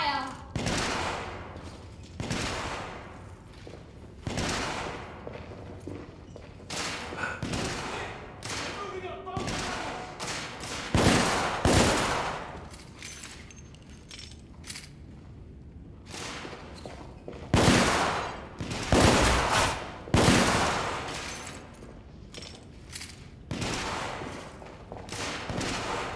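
Gunfire from the PS4 shooter The Order, with repeated bursts of loud automatic shots and thuds spread across the stretch, broken by brief lulls while a player talks over it.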